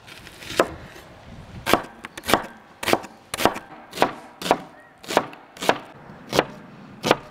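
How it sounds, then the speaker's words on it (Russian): An onion is cut with a knife on a board in a run of about a dozen crisp, evenly spaced chops, close and clear against a quiet room. "Так, друзья, нарежем лук."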